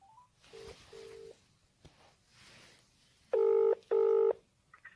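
A phone call to the Garda confidential line: a few short dialing tones, then two loud, evenly spaced telephone ringback tones, clear and close with no talking.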